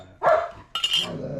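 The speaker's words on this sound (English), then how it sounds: "What Maggie's growling about" Maggie the dog gives a short, close growl followed by a run of louder barks, with no talk alongside.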